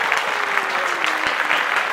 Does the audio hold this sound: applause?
yes